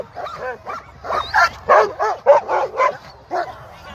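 Alaskan husky sled dogs bark and yip before a sled dog race, a close, excited run of repeated barks and whines in quick succession with no talk over them.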